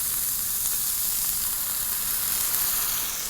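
Red wine vinegar hits a hot pan of browned, crispy chicken and caramelized bits, giving off a loud, steady, bright sizzle and hiss that continues without pause.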